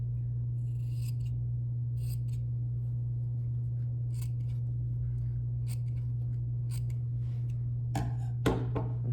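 Scissors snip through fabric draped on a dress form, a run of crisp, separate cuts spaced about a second apart over a steady low hum, with a brief handling rustle near the end.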